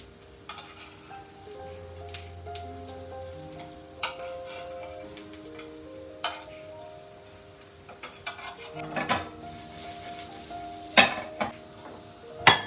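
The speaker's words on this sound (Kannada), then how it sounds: "ಈ ರೀತಿ ಫ್ರೈ ಮಾಡ್ಕೊಳ್ತಾ ಇದ್ದೀನಿ. ತವದಲ್ಲಿ ಫ್ರೈ ಮಾಡ್ಕೊಳ್ಳೋದ್ರಿಂದ ಸ್ವಲ್ಪ ಟೈಮ್ ಹಿಡಿಯುತ್ತೆ ಬೇಯಲಿಕ್ಕೆ" A snack fries on a hot tawa with a soft, steady sizzle, punctuated by clicks and scraping taps of a spatula stirring, closer and louder toward the end, with no talking.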